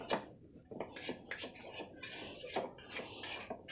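A knife runs around the side of a cooled cake in its tin, making close, repeated metallic scrapes and light taps against the tin, with no talking.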